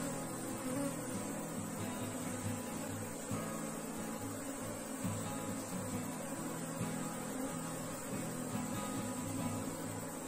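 Honeybees swarm around an open hive during a frame inspection, making a dense, steady, close buzzing hum that continues throughout without speech.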